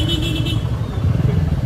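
A BMW motorcycle engine runs steadily nearby, a low continuous rumble with a faint higher whine early on, during a festival-day moto ride.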